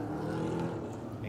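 EuroNASCAR FJ race cars in a sim racing game, weaving from side to side, their engines a steady droning roar of many cars together, brief and at moderate level.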